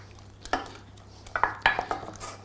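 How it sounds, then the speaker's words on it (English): A spoon scrapes and knocks against a pan while eggs are slowly beaten into glossy choux pastry dough for chocolate profiteroles, giving several sharp clinks and scrapes spaced irregularly over a quiet background. "Now I'm going to start slowly adding my eggs to the mixture"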